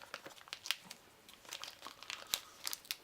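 A heat-sealed wax-paper wrapper from a 1983 Donruss Magnum P.I. bubble gum card pack is torn open, making faint, close, crinkly tearing and crackling sounds in short irregular bursts.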